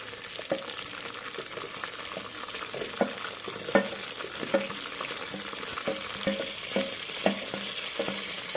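Chopped onions and green chilies fry in hot oil in a pan for an egg biryani, with a steady close sizzle and periodic scrapes and knocks of a stirring spoon, no voices.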